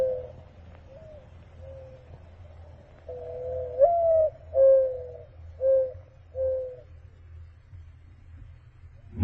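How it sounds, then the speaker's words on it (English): A mourning dove coos in a quiet setting, a soft series of low, hollow calls rising and falling, several close together in the middle and fading out, with no other sounds around them. "The voice of the mourning dove for me."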